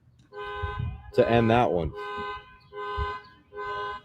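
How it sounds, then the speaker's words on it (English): Two car alarms sound outdoors at a high school baseball state playoff game, their repeating electronic tones pulsing in bursts with gaps, one answering the other, while a commentator talks over part of it. "now we got a car alarm going off in response to the other car alarm"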